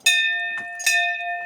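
A metal temple bell at the Goril Devta temple in Kumaon is struck twice, each sharp clang leaving a clear, ringing tone that sustains and slowly fades.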